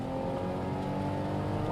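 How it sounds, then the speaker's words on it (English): Engine of a Lexus GS300 with the 2JZ straight-six, accelerating hard from inside the car, a dense steady drone that stays loud throughout, with no voices. "the engine does come alive. It sounds great."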